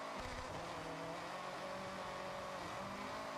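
GR Yaris sliding into a drift in Forza Horizon 6, a continuous loud engine roar with tyre noise, steady and close, without talk.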